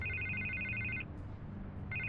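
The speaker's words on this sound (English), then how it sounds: "I can't get the phone to stop ringing." Telephone ringing in Batman: The Telltale Series, an electronic two-tone ring burst lasting about a second, a brief pause, then the ring starting again, steady and fairly loud with no talk.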